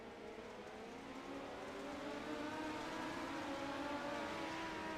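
Dirt midget race cars at Cedar Lake roar continuously, engines droning and swelling as the pack passes close, loud and unbroken with no talk over them.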